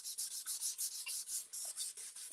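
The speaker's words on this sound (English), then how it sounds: "So just a couple swipes with the sandpaper is all that you need." Sandpaper rubbed along the side of a model railway track base, about a dozen quick, even back-and-forth swipes, close and crisp with no talking.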